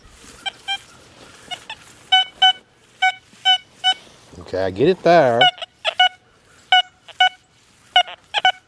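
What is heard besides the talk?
Deus 2 metal detector tones over an iron target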